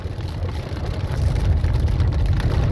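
Steady rain pours during an August thunderstorm, a dense, even hiss with a low rumbling undertone that grows slightly louder and continues throughout, with no voices.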